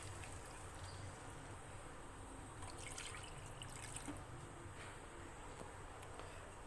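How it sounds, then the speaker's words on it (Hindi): Two glasses of water pour into a cooking pot of sautéed chillies for a sweet and sour chutney, a faint, steady trickle and splash that runs evenly throughout with no talking. "अब शामिल करेंगे हम 2 गिलास पानी"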